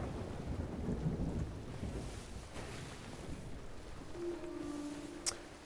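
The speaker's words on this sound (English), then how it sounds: "we are kind of heading out of the storm." A thunderstorm in a sailing video game rolls on with steady rain and wind, low thunder rumbling beneath, and a sharp crack near the end.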